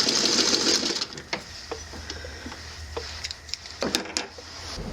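A sewing machine stitches a tricky seam, with fabric guided near the needle by a pencil or stiletto. The motor hums steadily throughout, joined by intermittent clicks and ticks, and there is no talking.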